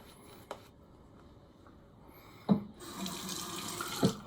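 A shaving brush is wetted under a running tap. After a couple of soft knocks, water gushes steadily from about halfway through, with a small splash or knock near the end.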